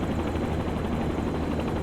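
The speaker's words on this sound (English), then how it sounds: "you'll definitely slow the helicopter down" Helicopter in the X-Plane 10 flight simulator slowing during a tour over St. Louis, its rotor chop a steady, loud rhythmic thumping with broad engine roar, no voices.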